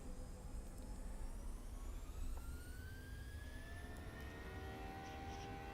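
Jet engines of a PMDG Boeing 737-700 spooling to takeoff thrust in the MSFS 2020 flight simulator, a steady loud roar with rising whine tones throughout, no talking.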